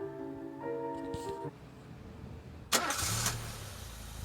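A car engine cranks and catches, then revs as the car pulls away, following a few closing thuds, with low music or voices faintly underneath in a narrated story scene.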